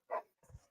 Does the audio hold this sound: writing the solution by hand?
no